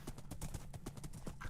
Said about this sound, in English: get a horse. Then you just need to ride in a straight line for 100 meters